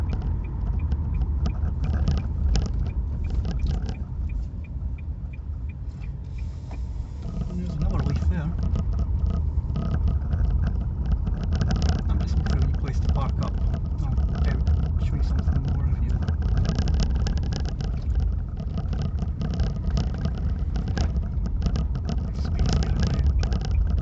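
Interior drone of a Nissan Leaf electric car rolling along and turning off the road into an opening, a steady low road rumble and tire noise throughout with faint scraping, while a person talks over it.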